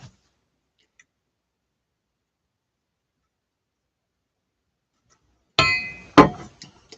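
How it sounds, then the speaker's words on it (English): A tea glass clinked a couple of times after a long silence, short bright close taps with a faint ringing tail, loud and isolated. "Just clinked my glass."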